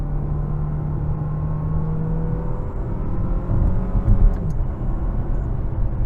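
A Dodge Hornet R/T plug-in hybrid is driven, with a steady low engine and road rumble inside the cabin. Brief clicks mark paddle-shifter gear changes, and a slight surge follows near the end.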